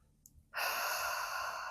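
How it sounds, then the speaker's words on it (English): A person in yoga child's pose takes one deep breath, heard as a long, close, airy exhale that starts abruptly after a short quiet pause. "One more big breath."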